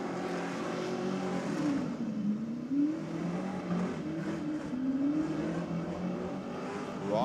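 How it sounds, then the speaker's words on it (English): An LS1-powered VL Condor wagon holds a sustained engine drone through a burnout, pitch rising and falling as the throttle swings in waves, heard from a moderate distance with no talk. "this is the LS1 powered VL Condor wagon"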